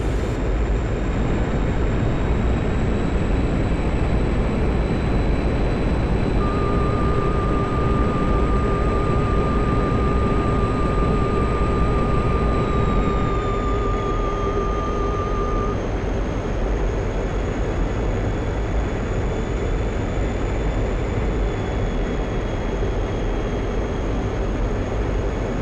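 A MiG-21 jet engine drones steadily in level flight in a flight simulator, a loud continuous roar with a high whine that dips slightly partway through, a separate steady tone sounding for several seconds, and no speech.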